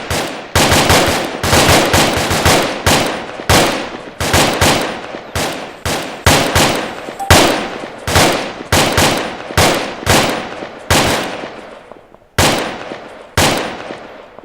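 A fire team's rifles crack out in rapid, overlapping volleys during a training drill, loud and close, with dense bursts of shots and short echoing tails running almost without pause.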